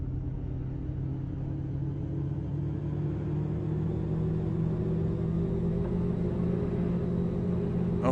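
A moon rover driving across the lunar surface in a video game gives off a steady, loud low engine rumble with a constant hum that holds evenly throughout, with no one talking.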